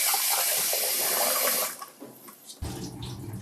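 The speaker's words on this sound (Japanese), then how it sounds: "お米を洗うね。" Rice is being washed under running water, with a loud gush from the tap that stops partway through, followed by softer sloshing and the water turning back on.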